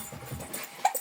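A dog whimpers briefly indoors, with a short, faint high whine rising near the end of a quiet second.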